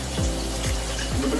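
Tap water runs steadily while hands are washed, a close, constant rushing hiss with no pauses.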